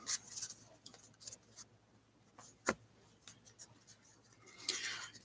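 A pen makes soft, scratchy strokes and ticks while marking Topps 2021 Opening Day baseball cards off a checklist, quiet and intermittent, with faint rustling between the marks.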